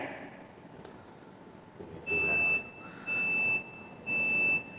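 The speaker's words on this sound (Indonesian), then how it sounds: "Ini alarm apa ini?" An electronic alarm sounds three times in steady pulses, each a shrill sustained beep lasting about half a second, cutting sharply over a quiet indoor room during a religious lecture.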